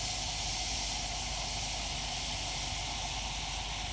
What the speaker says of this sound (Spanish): del vapor que sale de la pava